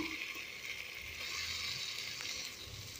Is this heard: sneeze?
no